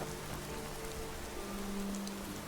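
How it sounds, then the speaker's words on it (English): Steady rain falls in Skyrim, a dense even patter on surfaces that stays constant and fairly close throughout, with faint tonal hums beneath and no voices. "Don't you just love a bit of rain?"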